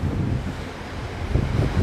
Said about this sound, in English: there's some more water exploding out of it.